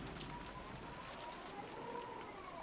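Light drizzle falling at dusk in the visual novel Rose Guns Days, a soft, even patter of fine raindrops hissing steadily in the background with no voices.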